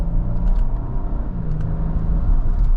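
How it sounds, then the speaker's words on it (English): A 2025 Nissan Armada PRO-4X twin-turbo V6 SUV accelerates from inside the cabin, a loud steady low engine drone and road rumble with rising harmonic tones, no talking. "get up to speed is no problem in this all-new Armada"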